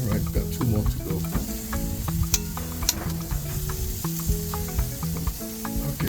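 Jamaican jerk chicken pieces sizzle on a grill, a dense, continuous crackle and hiss close by with occasional louder pops, no voices.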